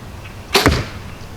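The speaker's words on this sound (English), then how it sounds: "Put a couple more arrows downrange here." A single arrow leaves a Quest Centec compound bow that has no stabilizers and only a string stop, giving one short, soft thump and snap close by against a quiet background.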